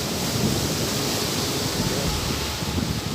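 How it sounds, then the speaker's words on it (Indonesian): Strong wind rises during a storm outdoors, a dense, steady roar of broadband noise that stays loud and close throughout, like rushing air mixed with rain or surf. "Kebetulan ini angin juga udah mulai keluar"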